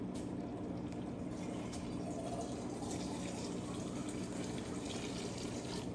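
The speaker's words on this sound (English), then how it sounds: "that's gonna get poured in that pot" Water pours steadily into a pot at home, a continuous moderate gush with no talking over it.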